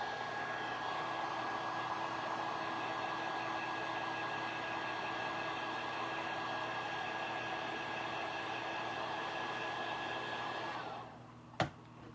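A hair dryer blows steadily at close range for about eleven seconds with a constant whine, then shuts off, leaving a sharp click near the end.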